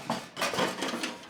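Metal backplate being fitted onto a 3FUL Zephyr stove, giving a few close clattering metallic knocks and scrapes across a short stretch, with no talking.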